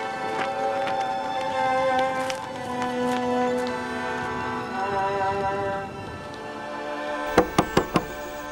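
Four sharp knocks land on a closed wooden door near the end, close and distinct, after a stretch of soft background music and faint ambient sound.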